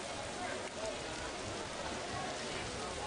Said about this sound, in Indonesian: hujan terus mengguyur stadion 23 Januari